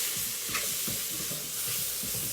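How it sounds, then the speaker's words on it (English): Mushroom rice pilaf with peas being stirred in a single pot, giving steady scraping, rhythmic stirring strokes over a soft continuous sizzle, close and moderately quiet, with no talking. "So give it a quick stir"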